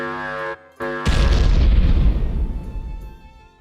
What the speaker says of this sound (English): Flashbang.